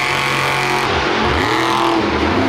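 A Monster Jam monster truck, the Rod Ryan Show truck, revving hard during a freestyle run at an arena event in Houston, Texas: a loud, continuous engine roar with rising and falling pitch sweeps as the throttle is worked.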